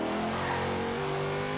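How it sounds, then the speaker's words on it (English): The V8 engine of a 2015 Volvo S60 Polestar in the racing game Forza Horizon 2 holds a loud, steady, droning rev with a rich low growl and a slight rise in pitch near the end. "This V8 sounds just like you'd be able to put this V8 engine in a lot of other cars."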